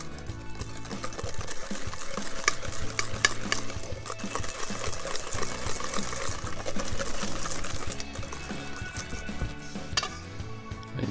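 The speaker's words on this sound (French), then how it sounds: "j'ai opté pour le fouet et ma main" Cake batter for an upside-down cake is whisked by hand, giving a continuous rapid scraping and clicking of the whisk against the bowl, close and steady throughout with no talking.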